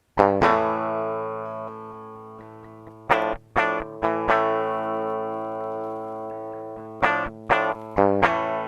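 Electric guitar recorded as a dry direct-input signal, strummed loud and hard: sharp chord attacks ringing out with long sustain, then a quick series of hard strums and more sustained chords, no voices.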